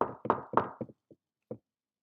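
Knocks on a door, a quick close series of firm raps followed by a couple of softer, spaced taps, then silence.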